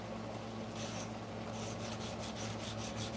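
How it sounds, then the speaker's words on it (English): 220-grit sandpaper rubbed by hand over a wooden surface, a faint steady rasping in repeated back-and-forth strokes, close and alone. "I'm going to show you how nice of a finish you can get with just a 220 grit hand sanded finish"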